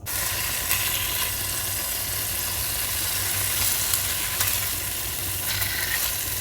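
Pork chops browning in a hot pan, a steady crackling sizzle with scattered pops and spits, close and continuous.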